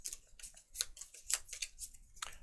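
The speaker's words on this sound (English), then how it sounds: "So we shuffle the challenge cards" Board game challenge cards being shuffled, a quick series of crisp riffling and slapping card sounds, close and fairly quiet, with no talking.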